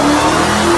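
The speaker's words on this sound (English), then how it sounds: "Armor Max Dodge Charger Hellcat" Armor Max Dodge Charger SRT Hellcat armored muscle car: a loud, close engine roar with a sustained revving tone and a slight pitch rise, continuous for the whole short moment, with no voices.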